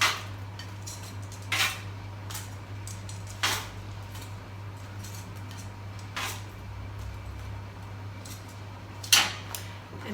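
Vegetable spring rolls, baked for about 20 minutes, being plated: a few sharp clinks and taps of dishes and utensils spaced apart over a steady low hum, with no talk.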